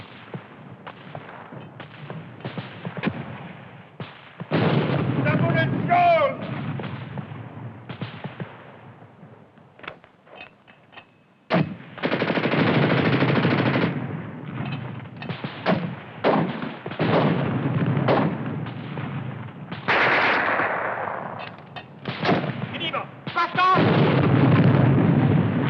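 Gunfire and artillery from a WWII war film battle scene: heavy, irregular bursts and booming blasts in several loud clusters, with a lull near the middle and voices mixed in.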